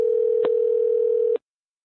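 A steady telephone dial tone hums evenly for over a second, with two faint clicks, then cuts off abruptly into silence; close and clear, with no voices.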